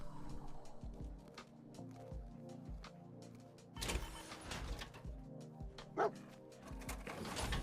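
Dogmeat, the dog companion in the Fallout 4 video game, gives a series of short woofs and excited yips over game ambience and music, with a brief whimper-like squeal near the end.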